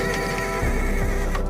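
A horse neighs loudly in a sound effect, a close, shrill whinny with a rising and falling shake, over faint hoof clatter.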